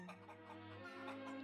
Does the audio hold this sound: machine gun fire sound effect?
no